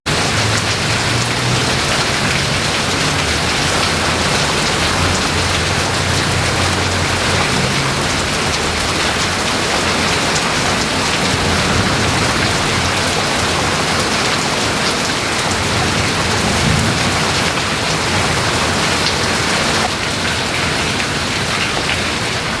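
Heavy rain pours steadily on an outdoor garden where flowers are being planted in hanging baskets, a dense constant roar with low rumbles of thunder mixed in beneath it, loud and close throughout.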